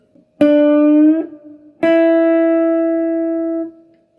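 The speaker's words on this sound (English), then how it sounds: "So I bend it, I don't release it, but I stop the sound, and then play the B string 5th fret." A guitar string is picked and bent upward, then muted to silence without release, followed by a single sustained note on the B string at the 5th fret, ringing clearly and alone.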